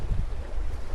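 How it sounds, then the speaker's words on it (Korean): Wind buffets an Insta360 X4 camera microphone recording in stereo mode, a continuous low rumbling roar with uneven gusts and no other sounds. "바람이 제 기대만큼은 아니지만 어쨌든 조금 불어주고 있네요."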